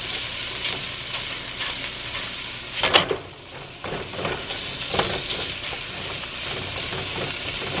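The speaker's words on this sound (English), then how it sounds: "Okay, I'm gonna let that cook a little more." Finely chopped vegetables cooking in a pot for tortellini soup give a steady sizzling, frying hiss with faint stirring scrapes, one brief louder clatter near the middle, no talk.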